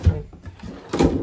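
A drawer slides open or shut in a 2022 Wildwood 24 RLXL travel trailer, two short knocking thuds with a soft slide between them, close and moderately loud, with no talking.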